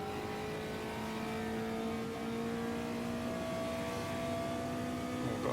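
Volkswagen Fusca (Beetle) drifting in a racing video game, a steady strained engine drone with sustained harmonic whine rising slightly over five seconds, loud and continuous with no talk.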